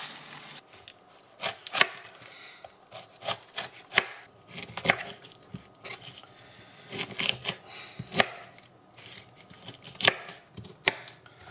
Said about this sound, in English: So I need to cut up the cauliflower